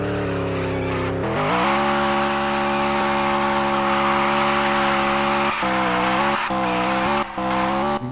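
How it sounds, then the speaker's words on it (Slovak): A BMW doing a burnout: the engine roars at a high, steady pitch with tire squeal for several seconds, loud and close, and briefly dips a few times near the end. "Burnout to drží pekne."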